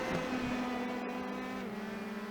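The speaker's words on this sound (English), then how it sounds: "That really shows the speed of the cars as they flash by the camera." Open-wheel race cars at Mid-Ohio Sports Car Course, a steady high engine whine that holds, then drops in pitch as a car flashes past the camera, fairly distant and without talk.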